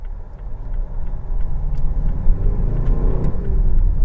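A 2013 Mazda CX-5 engine accelerates with a loud, close, rising rumble and road noise that builds steadily over a few seconds, with no voices.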